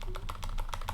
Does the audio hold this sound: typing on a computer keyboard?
yes